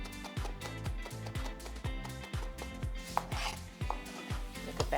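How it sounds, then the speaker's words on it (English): A knife rapidly minces onion on a cutting board, giving a dense, rhythmic run of close, crisp chops with a few scraping rubs of the blade. "just to make sure I've got a nice mince, I'm going to run my knife through a few times"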